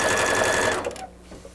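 A sewing machine runs in a fast, dense burst while stitching a fancy winter apron, close up, then stops abruptly, leaving faint handling noise.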